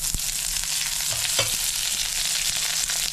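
Black mustard seeds and curry leaves fry in hot oil for vada pav, making a loud, steady, close sizzle with occasional sharp pops and spits throughout and no voices.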